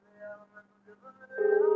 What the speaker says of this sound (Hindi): हाँ आप देखो बेल जा रही है।